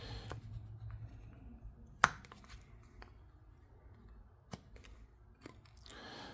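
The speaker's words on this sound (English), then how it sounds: "So I'm just kind of slicing, putting my knife in and slicing it." A knife slicing into wood while carving a Halloween coffin: sparse, dry cuts and scrapes, one sharp loud snick followed by a few softer clicks, close and quiet over a faint low background with no voices.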